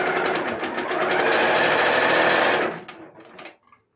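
A Little Rebel sewing machine driven by its foot pedal runs at a fast, steady whir for about two and a half seconds, then slows with a few final stitches and stops, loud and close with no voices.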